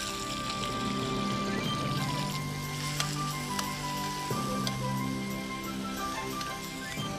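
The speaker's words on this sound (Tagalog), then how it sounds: "So mainit na yung pan natin. Sear lang natin yung ating chicken." Chicken sears in a hot pan, a steady, dense sizzle that holds close and loud throughout with a few faint clinks, and no voices.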